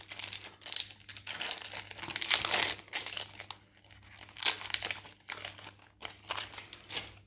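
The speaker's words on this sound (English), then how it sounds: "Get this last box topper open." Foil wrapper of a Magic: The Gathering Zendikar Rising collector box topper being torn and crinkled open, a close, steady run of crackling rustles and tearing bursts over about seven seconds with no talk.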